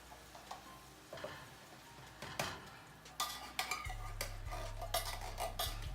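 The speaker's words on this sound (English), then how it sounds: "I have a can of cream of celery soup that I'm gonna add in while it's still on" Condensed cream of celery soup going into a pot of boiling chicken noodles on the stove, with scattered metallic clinks and scraping stirs over a low bubbling hum, close and fairly quiet with no talk.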